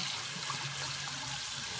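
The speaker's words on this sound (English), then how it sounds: "So if you can still hear me with the water running, that's cool." Water runs steadily from a shower or tap while hair is being rinsed, a constant hissing splash with no breaks and no talk.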